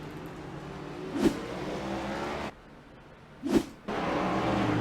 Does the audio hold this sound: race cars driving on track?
yes